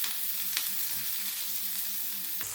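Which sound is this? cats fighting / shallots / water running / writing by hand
shallots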